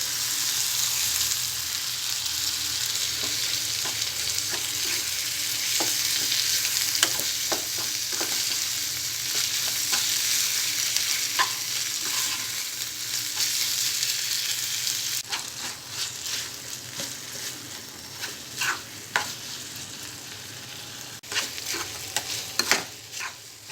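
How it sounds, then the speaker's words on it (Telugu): Masala for egg curry frying in a pan and being stirred, a continuous close sizzle broken by scraping spoon strokes and scattered clicks, growing sparser toward the end with no voices. "మసాలా ఫ్రై అయిన తర్వాత టమాటో ముక్కలు వేసుకోవాలి."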